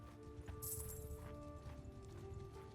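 Horse hooves drum in a steady clip-clop rhythm in Mount and Blade 2 Bannerlord as mounted vassals ride, a moderate continuous patter under a droning game backdrop.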